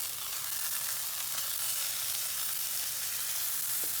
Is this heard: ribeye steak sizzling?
yes